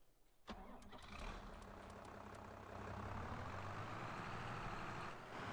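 A small loader tractor's engine in a farming simulator game cranks into life with a sharp onset, then settles into a steady, moderately loud mid-pitched rumble that builds slightly in intensity, with no talking.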